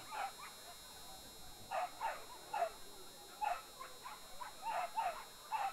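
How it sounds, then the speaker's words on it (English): Greyhounds bark and yip in short repeated bursts as they are loaded into the starting boxes at a world championship race, moderately distant with a steady background hiss. "Dogs going into the box."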